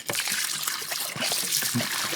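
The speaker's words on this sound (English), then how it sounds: "I like to mix up all the goop off the bottom of these jars and pour it in." Thick goop scraped from jar bottoms pours into a batch of apple cyser mead, a steady close trickle and splash with a few soft gurgles and no pauses.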